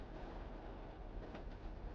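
Steady, continuous rumble of a train running on rails, a dense low roar with faint rhythmic wheel clatter throughout, close and even in level, no voices.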